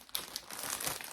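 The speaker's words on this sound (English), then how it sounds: "it's going to make a real rustling noise because I've left them in the bag" Plastic bag crinkling around skeins of yarn in a gradient set, close and continuous rustling with a few sharper crackles, no voice.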